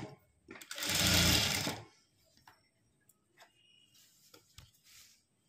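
A sewing machine runs a burst of fast, rhythmic stitching for about a second while thread piping is sewn, then stops, leaving faint clicks and handling sounds with light talk.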